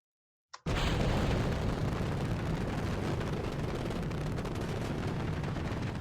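Rocket engine launching in Kerbal Space Program, a sudden ignition that becomes a loud, continuous roaring blast with no break after the start.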